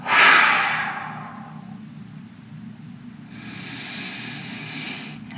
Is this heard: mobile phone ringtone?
no